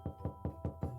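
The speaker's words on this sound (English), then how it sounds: "Jake knocked again" Five evenly spaced knocks on a door, a quick, steady rhythm of close, solid raps with nothing else heard.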